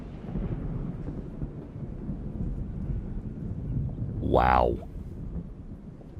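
Howling whiteout snowstorm in the video game Frostpunk 2, a steady roaring wind rumble filling the whole clip, with a brief exclaiming voice rising over it near the end.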